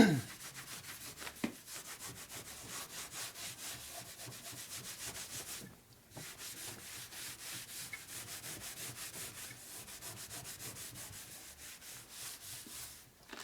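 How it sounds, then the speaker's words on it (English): A rag wipes excess sealant off a 1990s Evolution Sportster 90ci big-bore motorcycle engine case on a bench, giving a close, steady run of rapid rubbing strokes that pause briefly midway, then resume. "Wipe off the excess on the bench."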